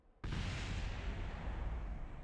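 A sudden loud explosion in Kerbal Space Program hits after a brief quiet moment, then settles into a broad, sustained roaring rumble that stays steady to the end.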